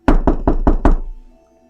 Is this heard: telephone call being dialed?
no